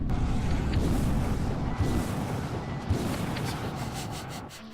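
Loud rocket in a live-stream game, a dense continuous roaring rumble that holds steady for several seconds with a couple of thumps, then eases slightly toward the end.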